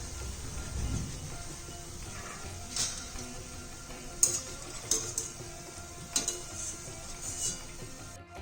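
Boondi, small drops of gram flour batter, fry in hot oil, giving a steady, close sizzling hiss with scattered light crackles and ticks throughout.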